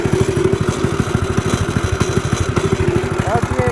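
A motorized drift trike's engine idles steadily close by on a long stretch of road, its loud, even chugging pulse running throughout with a faint voice briefly heard over it.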